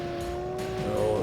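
Car with headlights racing down a road at high speed in the N64 game World Driver Championship, a steady whining engine tone with tires squealing, rising slightly toward the end, a voice faintly underneath.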